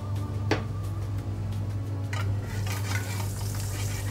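Vegetable oil and a knob of butter sizzling in a hot pan before a sirloin steak goes in, a steady close frying hiss with a few clinks and stirring sounds on top.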